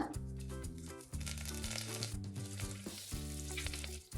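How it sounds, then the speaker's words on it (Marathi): Mustard seeds, cumin and curry leaves hit hot oil on low heat, crackling and sizzling loudly and steadily with fast popping bursts, close and alone for a few seconds. "तेल तापलं की गॅस बारीक करून घालायचे मोहरी जिरं कढीपत्ता"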